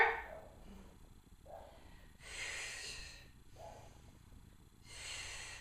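Rhythmic breathing during a pole core warm-up, with several audible breaths alternating between sharp exhales and softer inhales, close and fairly quiet with no speech.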